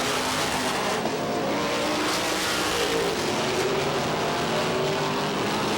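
Stock race cars roar down the back straight at Star Speedway in a 1990 Busch North Series race, a loud continuous engine drone with shifting pitch and dense track noise throughout.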